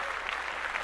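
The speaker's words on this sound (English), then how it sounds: "round of applause for Stacey Abrams" Brief dense applause from a crowd, steady and close, with no talk over it.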